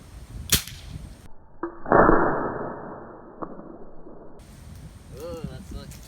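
A break barrel air rifle fires a pellet, one sharp crack followed by a loud ringing impact, then a couple of smaller taps against outdoor background noise.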